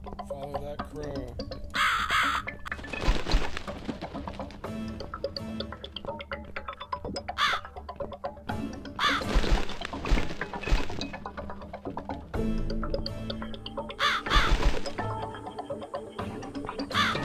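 Crow caws ring out several times at irregular intervals in the horror video game The Cat Lady, fairly loud over a dense, unsettling bed of ambient game sound and occasional thumps.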